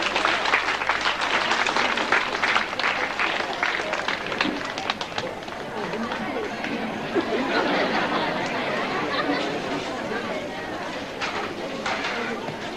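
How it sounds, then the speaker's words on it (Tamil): An audience at a silver jubilee celebration claps continuously for several seconds, a dense, steady wash of applause with crowd chatter and voices mixed underneath. "அனைவரும் கரவொலி எழுப்பி அவர்களை பாராட்டுவோம்."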